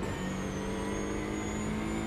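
A GT4 racing car engine in a video game drones steadily at a constant pitch, loud and close with no voices.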